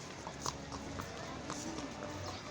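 Horse hooves clip-clop at a steady walking pace as people ride horses near a fort and mosque, moderately close, with a low murmur of voices and ambient bustle underneath.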